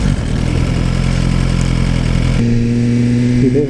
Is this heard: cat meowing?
no